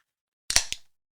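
A can of Pennsylvania beer cracks open with a sharp hiss and a second quick snap of the tab, close and alone in an otherwise quiet moment.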